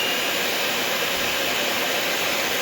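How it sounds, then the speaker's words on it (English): A stand or hand electric mixer whirs steadily at medium speed while beating cherry cheesecake batter, a constant broadband motor whine with no breaks. "I'm going to switch over to a medium speed, which means I'm going to put it right about here on my mixer"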